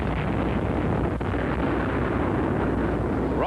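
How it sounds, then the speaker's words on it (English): Warship naval bombardment on a shore in 1944, a dense, continuous roar of booming blasts and rumbling fire, loud and heavily distorted in an old newsreel recording. "warships bombard the Japs on shore"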